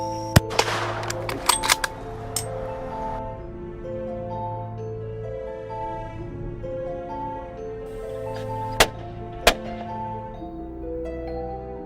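Hunters fire on alligators, sharp gunshot cracks landing in a quick cluster at first and then two isolated shots later, standing out over a steady tonal drone in the background.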